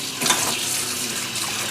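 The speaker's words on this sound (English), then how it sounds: "Just get some water in there and rinse them with your hands" Steady splashing water, close and fairly loud, while dried New Mexico and guajillo chile pods are rinsed by hand in a kitchen.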